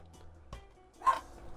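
A fat white 20-pound Chihuahua barking indoors, one short sharp bark standing out at moderate distance, with faint background noise around it.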